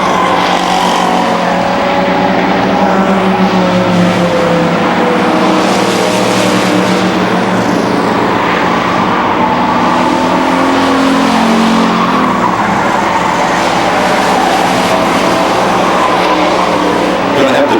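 Race trucks roar around the Beech Ridge Motor Speedway short track in a 2000 race, engines loud and continuous with rising and falling passes and tire squeal, a commentator's voice faintly underneath.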